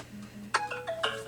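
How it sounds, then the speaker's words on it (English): A mobile phone ringtone plays nearby, a short bright melodic chime of a few quick rising notes, heard alone without talk. "Sorry, my phone."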